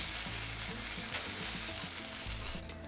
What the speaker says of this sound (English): I'm gonna throw them right on here on the grill while I make my beer cheese sauce so that I can get a little more color on them